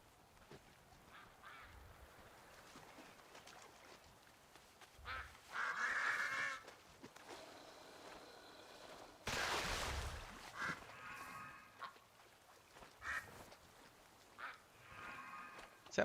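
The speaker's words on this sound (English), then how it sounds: "Is that bird attacking me?" A bird honking and attacking in World of Warcraft Dragonflight, giving two loud, harsh honking bursts over a quiet game background, with fainter calls scattered between them.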